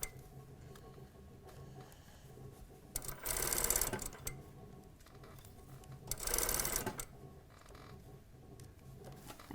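A sewing machine stitches the waistband of a panel skirt in two short bursts of rapid mechanical whirring, each about a second long, separated by quieter gaps of faint handling and creaks.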